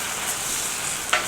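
An egg cooking over easy on a hot restaurant-style griddle for a bacon jam burger, giving a steady, close sizzle with one brief sharper crackle near the end and no talk.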